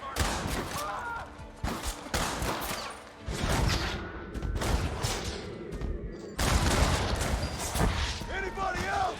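A Gatling gun fires in a Red Dead Redemption battle, loud rapid bursts broken by short pauses across the whole stretch, with a dense crackle of other gunfire around it.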